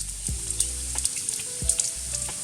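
Steady sizzling of bacon frying in a pot, cooked for mac and cheese, with occasional soft knocks of a utensil against the pot and no voices.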